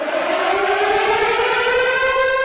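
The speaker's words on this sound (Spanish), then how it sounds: "El presidente Zelensky resumió la cotidianidad de los ucranianos con el sonido de las sirenas que dice suenan por aproximadamente 20 segundos." An air raid siren in Ukraine wails steadily and loudly, one sustained rising tone with strong harmonics and no break or voices.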